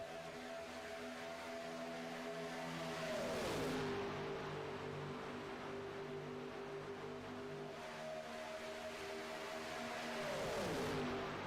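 Race cars lap Daytona in a close pack, engines droning loud and steady, then pitch dropping as each car passes by, twice in the stretch, with no voices.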